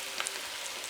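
Onion frying in a pan, a soft, steady sizzle with faint crackles, heard alone and fairly quietly for under a second.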